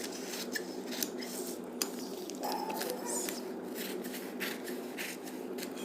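Scissors cut fabric for the sleeve of an umbrella suit, giving close, repeated snipping and rustling strokes against a steady background hiss, with someone talking.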